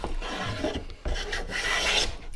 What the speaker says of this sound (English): we hear a nice, consistent shaving all the way across from one side to another